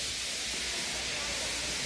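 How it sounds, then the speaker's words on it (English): A cartoon steam locomotive lets off steam feebly, a soft, steady hiss that stays quiet and even, with a faint low rumble beneath. "He just let off steam feebly."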